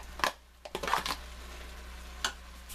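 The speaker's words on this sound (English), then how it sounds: "I'm just going to let these onions cook a little bit with the celery" Onions and celery cooking in a soup pot make a few brief stirring scrapes and clatters over a faint, low sizzle, close by and fairly quiet.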